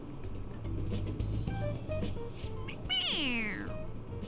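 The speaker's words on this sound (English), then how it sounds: "It meows when you press on its head." A stuffed cat toy in Persona 5 Royal gives a single rising-then-falling synthetic meow when its head is pressed, heard clearly over a steady low game background hum.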